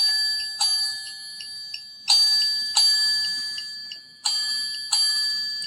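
A small gadget plays a bright, ringing chime: a series of clear metallic tones struck one after another, each fading slowly, some notes repeated, close and alone with no talking.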